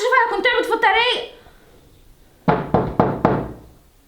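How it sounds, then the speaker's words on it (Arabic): Four sharp knocks on a door land in a quick even burst, loud and close, following a stretch of talking voices. "طب الحمد لله الباب بيخبط، اكيد هي"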